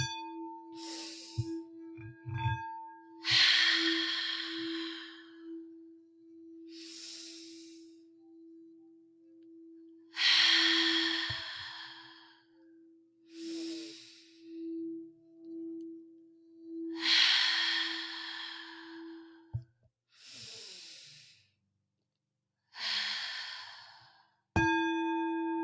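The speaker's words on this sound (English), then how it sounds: "Exhale fully, expel all the air out those lungs, and try to take in more air with each inhalation" Deep breathing exercise with slow, loud breaths repeated in a steady rhythm, each a long airy sigh, while a faint steady tone hums underneath and a chime sounds near the end.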